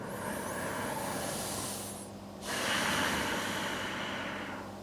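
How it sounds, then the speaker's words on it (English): Slow, deep inhalation during a gentle yoga session, a long steady breath of airy hiss that swells and then rises again after a brief dip, close and fairly quiet with no talking. "So breathe in."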